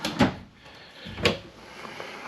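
A drawer in a 2022 Jayco North Point 382FLRB fifth wheel trailer slides open and shut twice, two short close clunks about a second apart in a quiet room.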